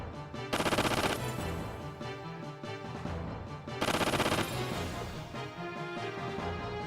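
A ship's main gun firing in Xenogears on PlayStation, loud rapid bursts of gunfire in two heavy volleys with quieter rumbling between them, no talk.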